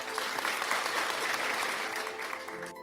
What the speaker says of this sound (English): let's give him a clap anyway